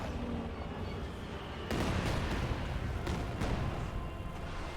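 A Katyusha rocket barrage in Company of Heroes 2 hits with a sudden heavy rumbling blast, followed by several more thudding impacts over a continuous battlefield din.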